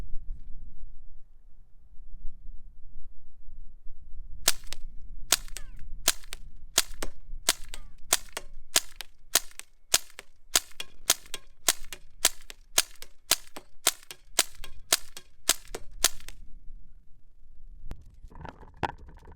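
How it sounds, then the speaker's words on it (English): A SIG MCX Virtus .22 calibre PCP air rifle fires about twenty sharp, evenly spaced semi-automatic shots in a steady rhythm, each crack loud and close against a quiet outdoor background. "took 20 shots"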